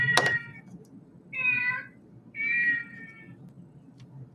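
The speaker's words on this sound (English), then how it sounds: "There goes the cat again." A house cat meows twice in plaintive, drawn-out cries spaced about a second apart, preceded by a sharp knock or thunk, over a quiet indoor room hum with no talking.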